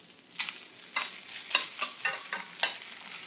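Eggs and kale fry together in a pan, giving a close sizzle with a run of quick scraping stirs in an uneven rhythm, and no voices.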